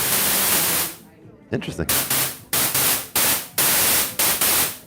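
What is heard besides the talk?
static noise from an OP-XY synthesizer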